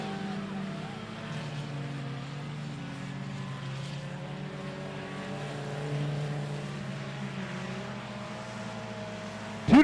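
Texas dirt race trucks run laps at I-37 Speedway, their engines droning at moderate distance in a steady, sustained rumble with slight swells, ending on a brief sharp knock.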